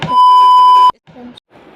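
A phone call notification sounds as one loud, steady electronic tone lasting under a second, followed by brief faint talking.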